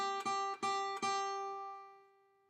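A single guitar note, third fret of the first string, is plucked three times in quick succession, then left ringing clearly and decaying into silence.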